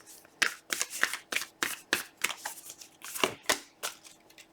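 A deck of oracle cards being shuffled by hand, with a dozen or so crisp riffling swishes in a steady rhythm, close and fairly loud, with no voices.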